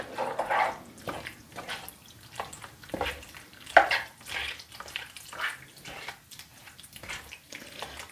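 Cream cheese is stirred into a creamy chorizo pasta sauce in a pan, with wet, squelching scrapes in an irregular rhythm, close and fairly soft.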